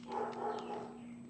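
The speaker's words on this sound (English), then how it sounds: "he feels the need to go and bark and wake up the neighborhood" A dog barks a few times at a distance in a quiet residential neighborhood, short muffled yips over a steady background hum.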